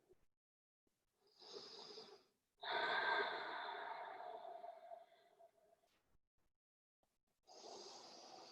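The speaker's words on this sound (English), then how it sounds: "I'm not snoring. Just breathing deeply, trying to feel that." Deep, slow breaths taken while holding a hamstring stretch behind the upper legs and knees during a strength and cardio flow workout, three long airy inhale-exhale bursts, close and soft, with quiet pauses between.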